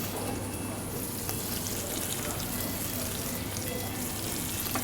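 Oxtail browning in hot oil in a pan, sizzling in a steady, dense crackle at close range the whole way through, with no voices.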